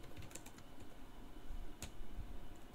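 Typing on a computer keyboard, soft scattered key taps at close range with one sharper click partway through, faint over a low steady background hum, no talking.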